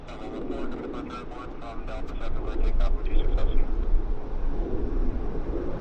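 A heavy aircraft lands at Vancouver airport, its broad, loud engine roar rumbling steadily throughout and swelling toward the middle, heard from nearby, with excited voices of onlookers speaking over the noise.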